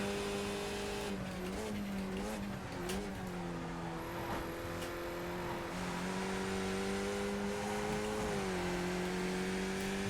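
A Skip Barber race car laps Zolder in iRacing, its engine droning steadily with pitch rising and falling through shifts and corners, loud and close with no talking.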